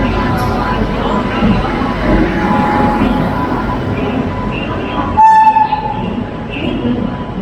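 The Mumbai Duronto Express, in full Duronto livery, arrives at a station with a loud, steady rumble of rolling carriages, then a short, sharp horn toot near the end.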